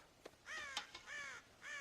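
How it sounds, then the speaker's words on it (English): Crows at a farm in the Red Dead Redemption video game give three or four harsh, nasal caws at moderate distance, spaced unevenly with small clicks between them, with no speech. "God damn crows!"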